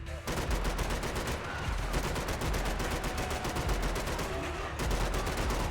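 Rapid gunfire in the video game Max Payne 3 runs almost nonstop as dense bursts of shots, loud and close, with a brief lull near the end before firing resumes.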